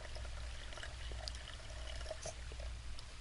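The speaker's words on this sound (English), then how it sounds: "Pouring on water." Water pouring from a gallon jug into a cup, a soft, quiet stream of liquid running steadily with faint splashing throughout, no talk over it.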